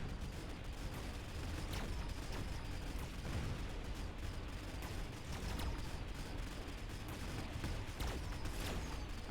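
Dense, continuous battle noise from the strategy game Mechabellum, with Mustang units firing shots amid constant crackling impacts and occasional sharper bursts, all blended into a steady unbroken roar.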